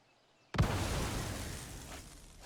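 Creatures wiped out by a Cleansing Nova spell in the Magic Arena card game, heard as one sudden loud explosive burst followed by a long, slowly fading rumble.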